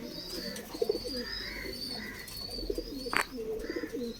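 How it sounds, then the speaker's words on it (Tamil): Caged pigeons cooing close by, a repeated soft rolling coo with a few sharper chirps and a brief rustle or flutter in between, against a quiet background. "இங்கே பாருங்கள், இதெல்லாம் உங்கள் புறா தான்."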